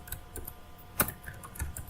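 Quiet, close typing of an SQL query on a computer keyboard: light, irregular key clicks with one sharper tap midway and no talk.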